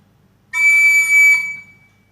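A single recorder note played with the sixth hole closed and the last hole half-closed, a bright, clean tone held for about a second and then fading.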